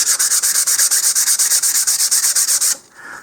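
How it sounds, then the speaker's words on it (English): Sandpaper rubbed around a 2-inch LOC Precision Lil' Nuke model rocket body tube, a steady rhythmic scratching of quick back-and-forth strokes, close and loud, stopping abruptly near the end. "we'll just sand this all the way around"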